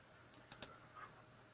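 A couple of quick, faint mouse clicks on a computer running STATISTICA software, sharp and close in an otherwise quiet room, followed by a soft trailing tick.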